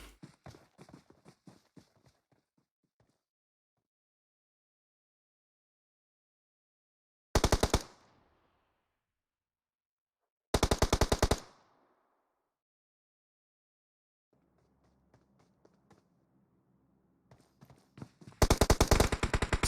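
Suppressing gunfire in the mobile battle royale game PUBG Mobile, heard as a few sharp bursts of rapid automatic shots separated by long quiet gaps, with faint scattered shots and rustle between them.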